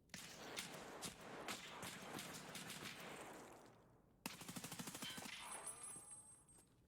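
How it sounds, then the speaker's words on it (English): Gunfire trades back and forth during a competitive online shooter match, with rapid automatic bursts and single cracks, then a brief lull followed by a tight string of quick shots. "Cosmos manages to return fire."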